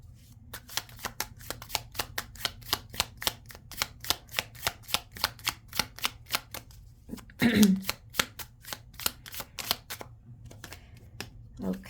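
Affirmation cards are shuffled by hand, a rapid run of crisp riffling flicks in steady rhythm close up, briefly interrupted by a short voice before the shuffling continues.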